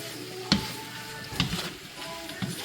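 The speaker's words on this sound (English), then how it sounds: "So we're going in next with our shrimps." Shrimp hitting a hot pan of fried rice, giving a low steady sizzle with three sharp clatters of stirring at regular intervals, close and moderately loud with no talking.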